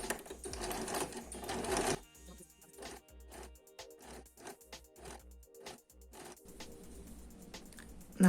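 A sewing machine stitches a lined hoodie hood in a steady run of rapid mechanical chatter, then slows into separate needle thumps and clicks, close up and moderately quiet.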